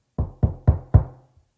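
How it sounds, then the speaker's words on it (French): Four firm knocks on a door, evenly spaced and close, each a dull woody thud with a short decay, followed by a tiny faint tap and silence. "Il frappa à la porte."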